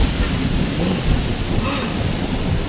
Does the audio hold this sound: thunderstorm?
yes